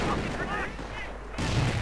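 Gunfire crackles and booms in a WWII strategy game mod as a flame grenade is thrown onto a machine-gun position, a dense burst of combat noise that cuts off briefly before resuming.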